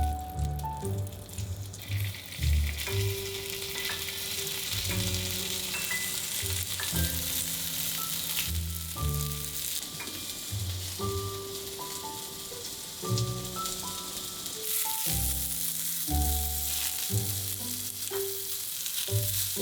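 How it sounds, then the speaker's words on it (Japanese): Starch-coated cod pieces fry in a thinly oiled pan with a steady sizzle, with faint stirring and clinks over it and music playing throughout. "フライパンに薄く油をひいて片栗粉をまぶしたら焼いていきます。"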